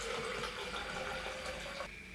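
Water pours steadily to fill a container, about 300 millilitres for a protein shake, a close, continuous splashing rush that cuts off abruptly near the end.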